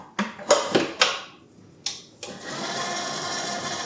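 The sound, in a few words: mixer kneading levain bread dough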